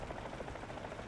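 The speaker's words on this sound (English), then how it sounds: "That's a chopper and it's not a friendly one." Enemy Mi-24 attack helicopter in the War Thunder video game, a faint, steady rhythmic rotor chop pulsing at a distance with no talk.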